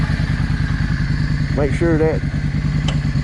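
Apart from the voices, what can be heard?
Yamaha V Star 650 motorcycle clutch being tested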